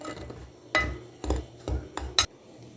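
A utensil clinks and scrapes against a bowl in a few uneven strokes while flour, sugar, salt and yeast are stirred together for biscuit dough, close and fairly quiet with no talking.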